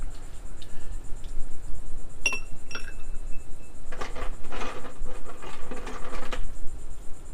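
Two ice cubes drop into a glass of rye whiskey with bright clinks, followed by faint rattling and a soft crackle.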